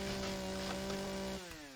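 A chainsaw running in the video game Empyrion Galactic Survival: a steady, close mechanical drone that holds level, then cuts off abruptly and winds down near the end, with no talking.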